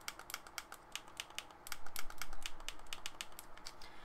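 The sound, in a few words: PowerWave PS2 controller analog sticks clicking down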